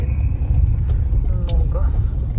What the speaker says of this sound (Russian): Оттуда смотри, сколько машин едет.